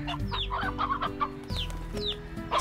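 Clucking chickens in coops in the video game Slime Rancher, with several short bird calls scattered over a steady low game ambience.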